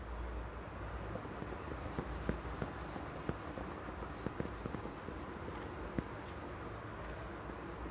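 A pen scratches out grammar rules on a surface, with faint irregular strokes and light taps against a steady background hiss, close and quiet, with no talking.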